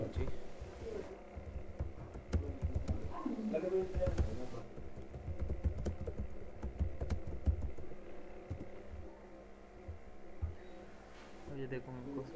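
Typing on a computer keyboard, with clustered clicks and key taps near the microphone over a low steady room hum. Someone talks intermittently over the keys.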